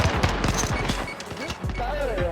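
RAM-7 assault rifle fired in an online shooter video game, heard as dense, rapid overlapping bursts of gunshots with constant battle noise throughout.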